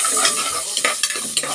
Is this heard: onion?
yes